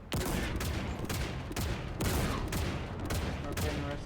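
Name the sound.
mounted gun firing in a video game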